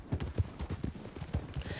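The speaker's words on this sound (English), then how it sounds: "I feel like my horse is riding faster though than I used to." Horse hooves clip-clopping at a quick gallop while riding in Red Dead Redemption 2, a rapid, close, continuous rhythm of muffled thuds on the ground.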